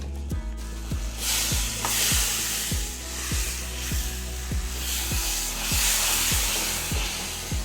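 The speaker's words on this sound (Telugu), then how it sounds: "ఆ కోకోనట్ పౌడర్ మొత్తం మ్యాంగో ప్యూరీలో కలిసేట్టుగా కలుపుకుంటూ కుక్ చేసుకోవాలి" Mango puree and coconut powder cooking in a pan for mango coconut laddu, with a steady sizzle and a regular rhythm of spoon strokes scraping the pan.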